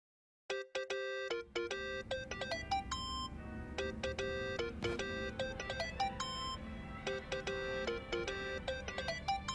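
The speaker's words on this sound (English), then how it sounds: "Think that's your phone, man." A mobile phone in the video game Yakuza: Like A Dragon plays a bright, repeating melodic ringtone of chiming notes that starts abruptly and loops continuously, clear and unaccompanied.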